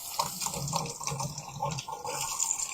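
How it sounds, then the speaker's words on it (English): Tap water running into a sink while sugary fingers are rinsed in a kitchen, a soft close splashing gurgle that flows steadily with slight pulses from the hands moving under the stream. "I'm going to rinse my sugar fingers for a second."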